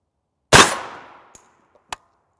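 A single sharp rifle shot firing an M993 round at 300 Winchester Magnum velocity, a loud close crack with a short decaying tail, followed by two faint metallic ticks.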